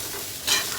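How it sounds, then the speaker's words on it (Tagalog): Mung beans being stirred in a hot pan, a short scrape and sizzle that swells briefly near the middle, close and alone. "Siyempre, lagyan natin ito yung munggo. Halo-haloin."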